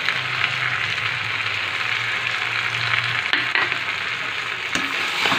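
Mutton sizzling steadily in a hot pan as whisked sour yogurt goes in and gets stirred, a loud continuous frying hiss with a few scraping stirs and small pops, no voices.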